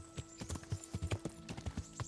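Horse hooves clip-clop steadily in the medieval game Kingdom Come: Deliverance, a quick, rhythmic run of soft thuds at a trot or canter, moderately faint over a constant low background hum.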